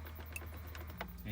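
Faint clicks and a soft mechanical rattle as a hidden 6 CD stacker panel folds up in a 2006 Mercedes-Benz E550 W211 cabin, brief and close over a low interior hum.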